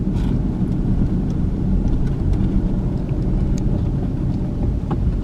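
A car driving through a small rural Georgia town gives a steady, close low rumble of engine and road noise with some wind buffeting. It runs continuously and evenly, with no talking.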